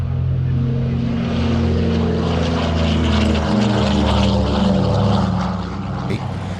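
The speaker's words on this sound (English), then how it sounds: "A pair of heavies next in the shape of two Douglas DC3 Dakotas." Two Douglas DC3 Dakota propeller airliners flying at an airshow, a loud, throbbing radial-engine drone with rising and falling tones as they pass close by.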